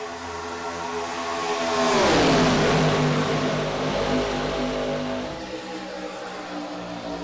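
Race cars in an IROC Challenge Series race at Daytona roar past, engines rising to a loud peak and then falling away in pitch as the pack passes and recedes.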